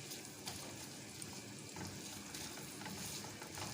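Medium onion frying in oil over full heat, giving a steady, continuous sizzle with faint crackles and occasional stirring, close by and with no talking.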